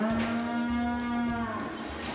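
Cattle moo on a farm, one long steady low call, close and clear, with no talk over it.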